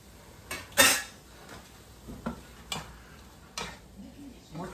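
Two large cloves of diced garlic cook in a pan, marked by a few sharp clanks and scrapes of a utensil against the metal over a soft, low background.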